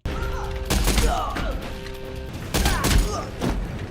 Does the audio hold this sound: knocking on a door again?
no